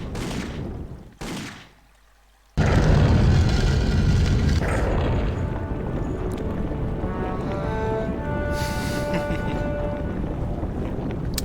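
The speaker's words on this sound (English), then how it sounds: "crap, they're shooting at me" Gunfire from enemies shooting in the video game Indiana Jones and the Infernal Machine, bursts of shots after a brief drop to silence, then a steady loud roar of game ambience with no talk.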